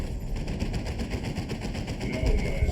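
A defensive turret in the real-time strategy game Dawn of War 2 Retribution, in a Tyranid swarm battle, fires rapid continuous bursts of automatic gunfire, a steady rattling stream of shots amid battle noise.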